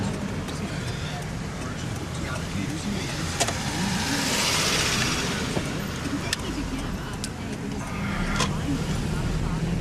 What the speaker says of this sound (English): We'll do a quick drive around.